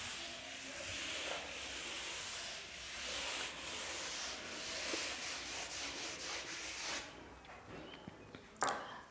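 Steady rubbing of a board in a classroom, a continuous dry scraping swish that pulses in strokes for several seconds before stopping, with a sharp brief knock near the end.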